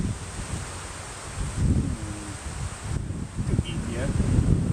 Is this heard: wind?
yes